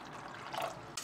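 Water pours and trickles into a cooking pot, a soft continuous liquid rush that swells briefly before cutting off near the end, heard fairly quietly with no talk.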